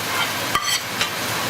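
Ripe plantains drop into a pan of spicy bacalao cooking in oil, a loud steady sizzle with a couple of brief stirring scrapes and clatters over the frying hiss.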